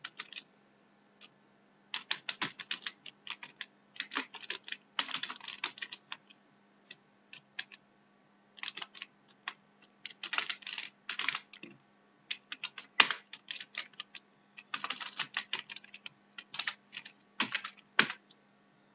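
Someone types on a computer keyboard while writing vanilla JavaScript code for a Candy Crush-style game. Close, crisp keystrokes come in quick irregular bursts separated by short pauses, with no talking.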